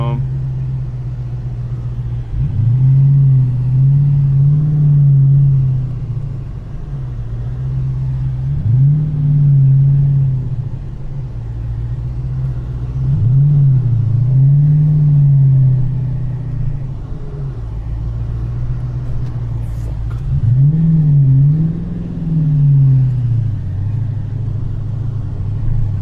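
A car with a 426 Whipple supercharged Hemi, which has a stalling problem, creeps along at low speed. Its deep idle rumble is lifted by four evenly spaced throttle blips while someone talks over it.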